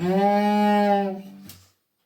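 A bowed string instrument, played on its G string, imitates a baby cow's moo: one sustained, rich low tone that slides slightly and fades, ending with a brief soft noise.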